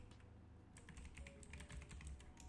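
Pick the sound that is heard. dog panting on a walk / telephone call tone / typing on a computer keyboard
typing on a computer keyboard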